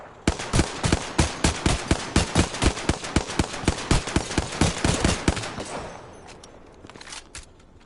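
A rapid, steady burst of automatic gunfire in Apex Legends hammers out about twenty loud shots in an even rhythm, then cuts off into a fading tail.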